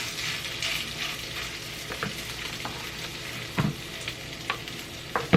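A salmon burger patty sizzles and fries in a pan with a steady hiss, broken by a few soft pops and scrapes, and no talking.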